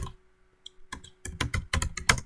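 Python code being typed on a computer keyboard, a few sparse keystrokes and then a quick, uneven run of close clacking presses with no voices.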